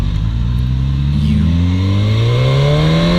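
A 2016 Suzuki GSX-S1000F motorcycle engine pulls in sixth gear, its loud, steady drone rising smoothly in pitch as the bike accelerates, close and dominant with wind rush behind it.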